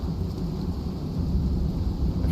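A thunderstorm in the video game Icarus, a continuous low rumbling roar of wind and thunder that holds steady the whole time with no break.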